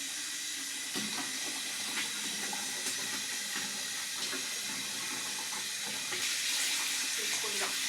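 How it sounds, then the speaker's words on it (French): Hot tap water pours steadily into a bathtub, a soft, even hiss of running water with faint knocks and clinks over it. "en attendant je vais faire chauffer l'eau du bain"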